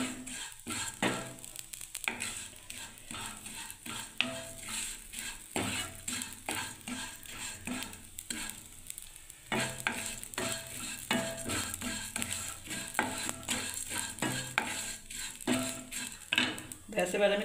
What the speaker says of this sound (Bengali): এই দেখুন আমি ভেজে নিচ্ছি, একটু লাল করে ভেজে নেব।